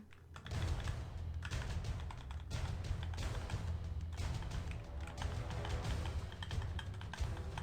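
Steady typing on a computer keyboard during a Maplestory game session, close and continuous rattling keystrokes in bursts separated by brief pauses, no talk.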